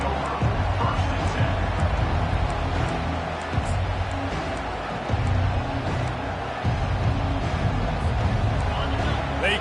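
Stadium crowd noise at a college football game in the video game College Football 25, a steady dense roar of fans with faint cheering underneath a commentator's continuous talk.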